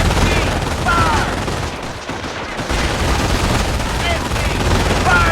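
Sustained Company of Heroes battle noise, dense rapid machine gun fire crackling loud and close in continuous bursts, with shouted voices over it.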